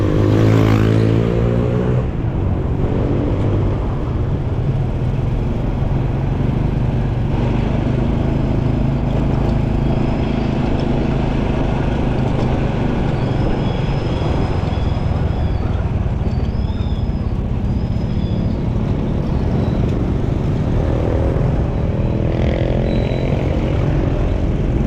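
Motorbike riding through busy traffic in Vientiane, Laos, with a steady close engine drone, wind and road noise, and passing vehicles, with occasional speech over it.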